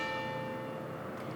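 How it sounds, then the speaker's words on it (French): Church bell ringing as a faint, sustained tone with steady overtones, heard from a distance in a town centre over low background noise. "ça c'est chouette d'entendre la cloche."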